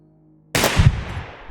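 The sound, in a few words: pistol gunshots in video game Receiver 2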